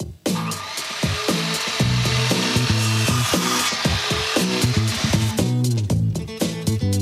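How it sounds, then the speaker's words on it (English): A chop saw cuts wood in a workshop, loud and close, with a steady whine broken by repeated rasping bursts as the blade bites through the board. "Johnny was taught how to cut exact angles on the chop saw"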